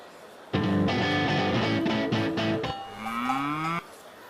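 Cattle in the bovine hall at an agricultural show, a loud, close, drawn-out moo lasting about two seconds, followed by a second rising bellow, against a quiet hall background.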